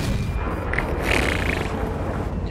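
A tank's main gun fires in the World of Tanks video game, with a T32 heavy tank in play. A loud, continuous rumbling boom fills the clip, with a brief brighter burst in the middle.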